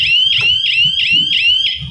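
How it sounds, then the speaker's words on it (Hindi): A school team in a quiz contest presses the buzzer, setting off a loud electronic alarm that beeps six times in fast regular pulses, with faint background murmur underneath. "फिर से अमन नगर की स्कूल ने बजर दबाया है।"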